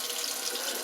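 Water running steadily from a faucet into a sink as a glass is hand washed, a constant close hiss of flowing water with no pauses.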